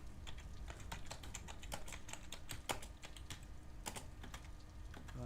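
A computer keyboard typed on at a quick, uneven pace, its dense keystroke clicks going on throughout at a modest level with no talk.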